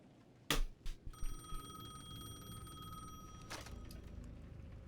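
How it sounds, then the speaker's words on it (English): A payphone rings in the video game Alan Wake II, a sharp electronic bell trill held for about two seconds with a click at each end, fairly loud over a low ambient drone. "The payphone at the edge of the plaza was ringing again."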